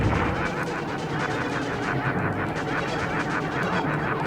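Continuous dense gunfire and explosive blasts from Nova bombs in the Star Fox video game, a loud, steady barrage of shots and booms filling the whole stretch without pause.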